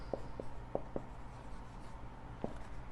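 Chalk or marker taps and scratches on a board during a 9th-class maths lesson, in short scattered strokes with quiet pauses between them.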